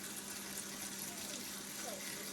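Water pours over pickling beans as they are rinsed in an Appalachian kitchen, a steady gushing splash like a running tap that holds unbroken for the whole stretch.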